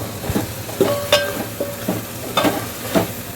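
Hot oil sizzles steadily in a pan while boti charu cooks, with a few soft stirring scrapes and clinks of the spoon close by.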